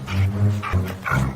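A pack of dogs chasing a fox barks and yelps in quick, overlapping bursts, loud and close, as a story sound effect.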